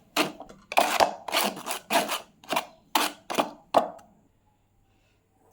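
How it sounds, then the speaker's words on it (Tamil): Gram flour, maida and a pinch of baking soda being sifted through a sieve, about nine short rasping shakes in an uneven rhythm, close and distinct, then quiet at the end. "இதில் கடலை மாவு போட்டு சலிச்சிடலாம்."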